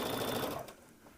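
Sewing machine stitching steadily during a live Christmas club sewing session, a continuous whirring run that stops abruptly partway through, leaving a quiet room tone.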